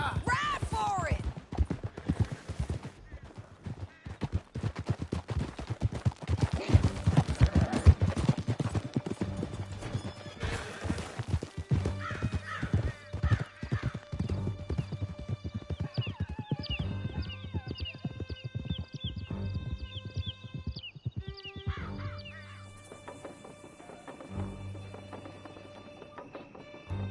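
Horses gallop hard in Red Dead Redemption 2, dense clip-clopping hoofbeats with whinnies and distant gunfire, easing off as a tonal musical score rises at the end.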